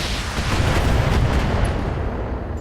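A heavy assault mech in a video game unleashing its weapons, a dense, loud burst of booming cannon-like fire and rumbling blasts sustained without pause through the whole moment.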